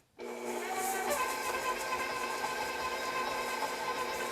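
Stand mixer with a paddle attachment creaming butter and sugar at medium speed, a steady motor whir with a faint rubbing, scraping texture that starts abruptly and runs evenly throughout, no talking.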